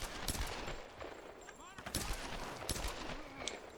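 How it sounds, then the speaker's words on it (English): Rapid bursts of gunfire crack out in Tomb Raider (2013), several sharp shots spaced across a few seconds over a noisy game background, with people talking during the shooting. "Ooh, I shot him in the bum."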